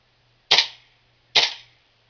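Two sharp, loud gas blowback shots from a King Arms M4 airsoft rifle running on green gas, each a crisp crack with a short hissing tail, spaced under a second apart with nothing else around them.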